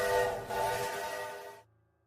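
A train whistle blows as a single sustained tonal blast for about a second and a half, rich with harmonics and fairly loud, then cuts off sharply, leaving a faint low hum.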